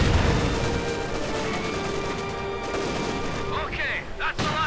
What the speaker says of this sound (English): Panther unleashing all kinds of hell at close range with the machine guns and the main gun.